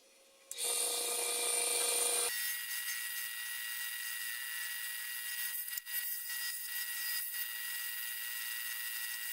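A spindle gouge cutting a turned wooden stick pen on a spinning lathe, starting with a loud, harsh shearing burst, then settling into a steady, thinner whirring scrape with a few brief dips.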